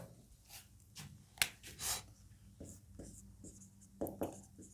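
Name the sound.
writing the topic on a board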